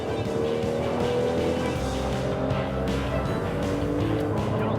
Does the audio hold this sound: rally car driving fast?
yes